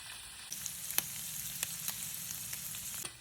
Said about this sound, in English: Now that the garlic is all brown, we're gonna add our shrimp. We'll saute these for about 4 or 5 minutes until they turn pink.